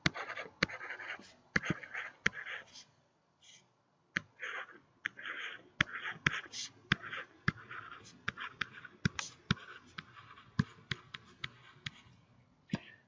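Lecturer sketching a drawing on a classroom board, sharp taps and scratchy strokes in irregular bursts, fairly quiet, with short pauses between marks and no talk.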